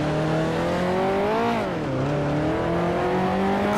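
A 1955 Formula One race car engine in the Grand Prix Legends sim at Monaco drones loud and close throughout, its pitch sagging briefly as the driver lifts off, then climbing steadily again under continued throttle, with no talking.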